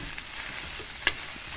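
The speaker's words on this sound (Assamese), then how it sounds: "আৰু এয়া ফাইনেলি আলু ভাজি আৰু মানিমুনি হৈ গ'ল" Potatoes and manimuni are frying in a pan, giving a soft, steady sizzle close by with faint stirring. A brief sharp click or scrape of a utensil comes about a second in, and no one talks.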